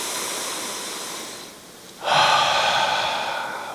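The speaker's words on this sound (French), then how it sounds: "Prends un souffle, prends un respire ce matin." A deep breath drawn in, loud and close, follows a short lull in steady airy noise and carries on as a broad rushing inhale to the end.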